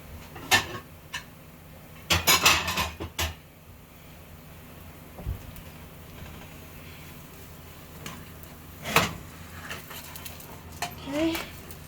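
A large plate is taken down in a home kitchen while making crepes, giving several close ceramic clatters and knocks in bursts, with quieter handling sounds between them.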